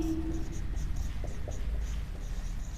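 Steady scratching of chalk or marker on a classroom board during a Hindi grammar lesson, a continuous close stroke-by-stroke scrape with short taps, with no talking.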